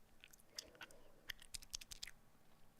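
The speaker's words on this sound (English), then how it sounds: "Sorry, chewing my gum." Gum chewing close to the mic, quiet wet smacking clicks in an irregular rhythm over a faint steady hum, with no talking.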